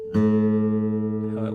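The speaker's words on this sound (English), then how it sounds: "I've detuned my A string so that you can hear what it sounds like when it's absolutely out of tune here." Detuned guitar A string sounding against a tuning fork, a sustained pair of close tones that beat and waver steadily for over a second, with a faint voice entering near the end.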